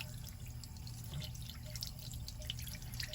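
Water running from a tap to wet a doll's synthetic hair, a steady low gush with faint spattering drips, continuous and fairly quiet throughout.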